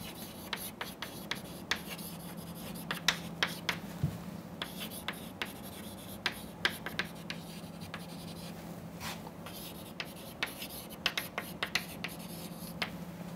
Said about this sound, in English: let us write that down